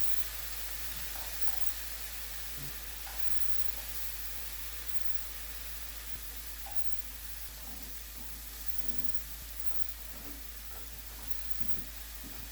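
Thin slices of marinated beef bulgogi sizzle in a pan over medium heat, a steady broad frying hiss with faint scattered pops throughout.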